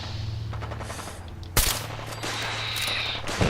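Rifle fire rattles in a Fallout 4 battle against raiders, with a continuous dense stream of shots, a loud sharp blast midway and steady crackling gunfire after it over a constant low hum of background noise.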